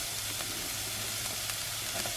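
Shredded cabbage sauteing in coconut oil in a pan on a van-life stove, a steady soft sizzle with a low hum underneath and a few faint clicks of stirring.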